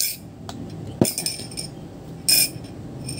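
A drinking glass for a milky strawberry collagen drink gives two clear clinks about a second apart, with faint clatter in between. The sound is close and quiet, with no speech.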